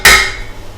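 An egg is cracked for baking in one sharp, crisp knock, close and loud, with a short ring that quickly fades.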